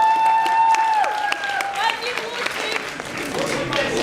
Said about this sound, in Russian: давайте еще раз поаплодируем всем участникам этого конкурса